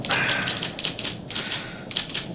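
Typewriter keys clack rapidly in uneven bursts during a scene from the 1971 film A Clockwork Orange, with sharp repeated strikes and brief pauses, close and steady over a faint background.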